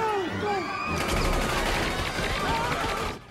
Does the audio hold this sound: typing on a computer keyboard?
no